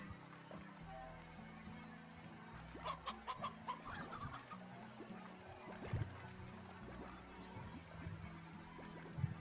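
Chickens cluck in the farming game Slime Rancher, a run of quick, fairly faint clucks mixed into soft game ambience and music, with a few more scattered clucks afterward.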